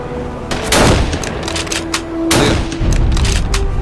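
Bursts of gunfire in the World War II shooter game Battlestrike Shadow of Stalingrad, loud overlapping shots and booms in quick clusters over a steady tonal game hum.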